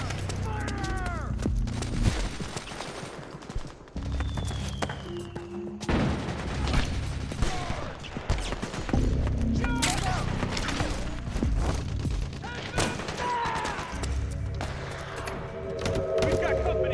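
Dense bursts of gunfire from Metal Gear Solid 4: Guns of the Patriots crackle through a battle, rapid automatic volleys and booming hits layered over game music, with shouted voices breaking in throughout.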